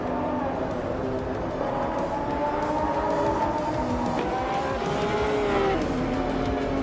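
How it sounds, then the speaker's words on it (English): A Lamborghini Murcielago SV races with a steady, loud engine drone and shifting whine that run unbroken throughout, with no talk heard. "Lian Yechian is leading the race in her Lamborghini Murcielago SV"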